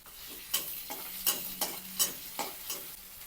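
Garlic, ginger and green chili frying in hot oil, with a steady low sizzle broken by about seven sharp scraping stirs of a spatula, roughly evenly spaced, close and clear, with no voices.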